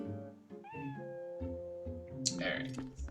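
A cat in a bar meows in the video game The Legend of Zelda: Twilight Princess, a short rising cry over steady game music, with a brief burst of brighter effects near the end.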